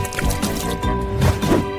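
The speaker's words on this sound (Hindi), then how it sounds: "अब कोला लेंगे। मुझे ये बहुत पसंद है और इसे प्रिंगल्स पैकेट में डालेंगे।" Cola poured into an empty Pringles packet, a steady gurgling, splashing pour with fizzy bubbling and irregular glugs, close and fairly loud, no talk.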